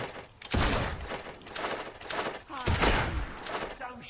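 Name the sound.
gunshots fired in the video game Fable II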